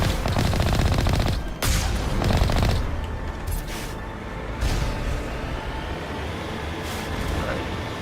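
Sustained enemy gunfire in Mass Effect Legendary Edition, a dense rattle of automatic shots loud at first, then thinning into a steadier, busier background of weapon fire and game noise.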